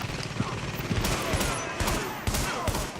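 Enemies firing guns at the player in The Division, rapid overlapping shots and bursts landing close and loud throughout, with a voice talking underneath.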